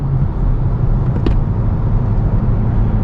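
Acura car with a manual transmission accelerating in fourth gear under adaptive cruise control, heard from inside as a steady, close low engine drone with road rumble and no talk.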